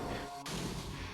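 Single sniper shot fired in the Nintendo DS game Metroid Prime Hunters, a sharp burst about halfway through followed by a rumbling tail, set over a steady game background hum.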